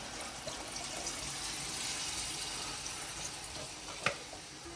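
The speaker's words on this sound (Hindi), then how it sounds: "अब इसमें दूध डाल रही है इसमें" Milk pours steadily into a pot of cooking zarda, a sweet rice dish, making a continuous hissing, bubbling wash with one small clink near the end, and no talking over it.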